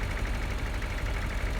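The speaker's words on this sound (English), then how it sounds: "it's the other tractor" A tractor engine in Farming Simulator 2013 idles with a steady, rough, low rumble throughout a short stretch, with no talk.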